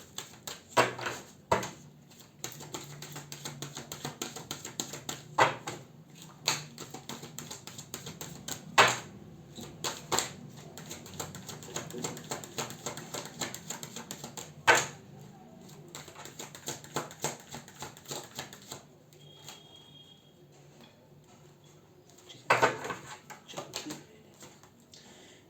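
Tarot guidance cards are shuffled and drawn at a table, giving irregular papery slaps and sharp clicks that come in bursts with short pauses over a long stretch, quiet room, no talk.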